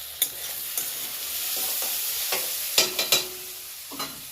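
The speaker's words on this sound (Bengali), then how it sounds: "এখানে পুরির জন্য একটা সবজি করবো আলু দিয়ে" Potato and tomato curry cooking in a pan for puri: soft frying sizzle with several sharp scraping stir strokes of a spoon, close and fairly quiet, no talk.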